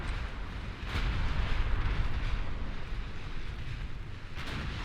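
Naval gunfire and shell hits in Ultimate Admiral Dreadnoughts, a warship battle game: a constant heavy roar of booming and rumbling, with several sharper blasts standing out. It is loud and dense, with no talking.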